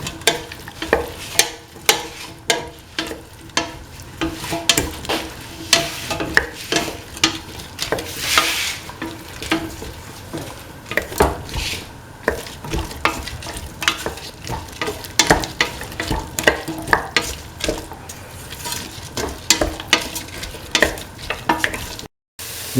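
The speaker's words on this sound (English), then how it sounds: "Mix the winter melon pieces with the rest of the mixture" Winter melon pieces stirred through an egg and coconut milk mixture in a pan, a steady run of scraping, clinking stirs with a faint sizzle underneath, close and continuous with no talk.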